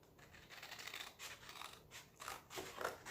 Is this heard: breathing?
no